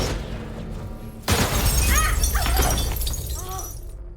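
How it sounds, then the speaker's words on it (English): Window glass shatters in a sudden loud crash after a quiet, humming stretch, followed by a dense spray of tinkling, scattering shards and clatter that fills the rest of the moment. "the lights begin to malfunction, and shards of glass strike her eyes"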